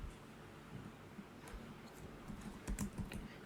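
Typing on a computer keyboard while entering Google Ads text, with quiet, irregular key clicks that quicken into a few louder taps toward the end, over low background noise.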